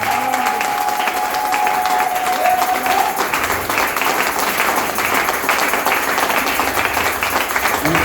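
A church congregation at a Capstone Tabernacle service in Gabon breaks into loud, sustained applause, dense clapping that fills the room throughout, with voices faintly mixed in.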